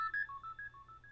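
A quick run of telephone keypad dialing tones, about ten short beeps in a fast, even rhythm. They are faint and heard alone over a low hum.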